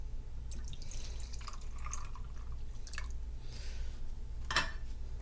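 Pineapple juice poured into a cocktail measure, a few soft liquid trickles and drips over a low background hum, ending with a brief sharper splash.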